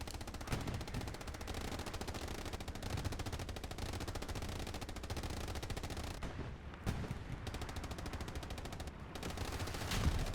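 Sustained battlefield fire in the Hell Let Loose game, in a competitive console match with incoming rocket rounds, as a dense, continuous rattle of automatic weapons with heavy impacts punching through. No voices.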